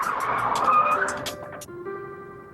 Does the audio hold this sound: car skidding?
yes